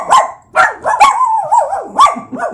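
A dog barks in sharp bursts at close range, five or six loud woofs with a short whining, growly tone between them and no voices.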